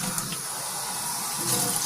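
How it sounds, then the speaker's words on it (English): Water running steadily from a kitchen tap while an apple is washed under it, a close, continuous splashing hiss without pause. "wash off this apple"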